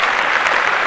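Hands clapping in a quick, steady patter, close and fairly loud, for about a second with no talk over it.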